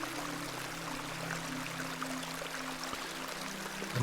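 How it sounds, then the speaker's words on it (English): A small beck in a video game trickles and pours along in a steady, soft babble, with a low hum running beneath the flow. "This is a lovely little beck. It's where we get our water, miss."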